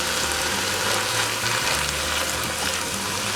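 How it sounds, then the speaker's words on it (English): Canned chili beans tumble into a hot soup pot of Sloppy Joe soup, setting off a steady, close sizzle and bubbling hiss that runs the whole time with no talking. "We'll go ahead and put in the chili beans."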